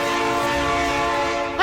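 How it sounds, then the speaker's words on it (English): Train sound effect in a tabletop role-playing game: a loud, steady, tonal train horn blast held for well over a second, ending in a sudden louder burst. "That's a train."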